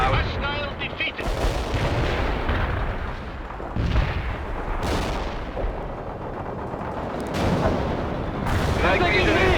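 Heavy explosions and bursts of gunfire from an anti-tank strike in the World in Conflict video game, with booming impacts repeating throughout amid a dense, continuous battle roar.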